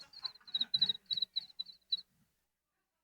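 Cricket chirping imitated with the mouth: a quick run of about eight to ten high, rapid trills from a single nearby voice, each clipped short, stopping after about two seconds and followed by silence.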